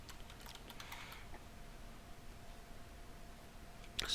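Faint keyboard typing as an administrator user ID and password are entered, a short scatter of soft key clicks early on, then quiet, with a sharper click near the end.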